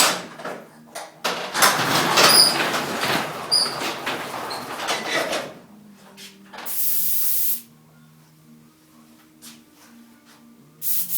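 An airbrush sprays reducer through itself to flush it clean, giving a loud, steady hiss for several seconds. It stops, and then a shorter, fainter burst of spray follows.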